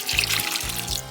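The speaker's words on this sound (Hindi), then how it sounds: "उसके बाद हम इसमें डालेंगे पानी 1/4।" Water poured into a jar of roughly chopped onions already three-quarters filled with vinegar, a close, steady splashing pour that lasts about a second with a brief break midway.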